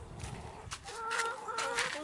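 A broody hen gives soft, low clucks and grumbling calls nearby in a backyard beside a greenhouse, with several short murmured notes over about two seconds.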